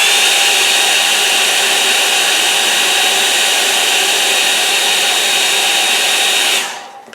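A hair dryer blows loud and close in a steady, unbroken whoosh over a watercolour estuary painting, then switches off and winds down at the very end.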